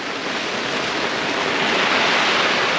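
Heavy rain pouring down at a fishing lake, loud and constant: a dense, hissing roar that continues without break.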